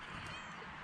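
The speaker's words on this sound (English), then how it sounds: "She's our resident mouser. She's a very good cat, very friendly" A friendly resident mouser cat outdoors on a morning just after rain, giving a short meow close by against steady background noise.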